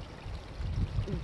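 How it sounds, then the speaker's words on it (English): A small trickling waterfall on a creek, heard as a steady close wash of falling water with a soft bubbling murmur throughout. "sitting here listening to this water, this beautiful little trickling waterfall"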